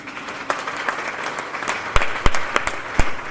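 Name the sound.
audience applauding and cheering in church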